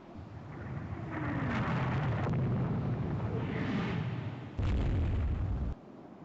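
A shell strikes a ship's turret top in the naval strategy game Rule the Waves 3, with booming artillery and a rumbling explosion rolling on continuously, then a louder, heavier blast near the end that cuts off abruptly.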